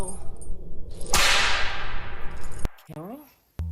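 A single sharp whip crack snaps loudly, then its bright swish trails away over a couple of seconds, with a metallic clang and a brief voice near the end.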